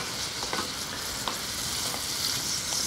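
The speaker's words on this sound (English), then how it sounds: "keep your butter going," Apples fry in butter in a pan and are stirred, giving a steady loud sizzle broken by a few soft scraping stirs.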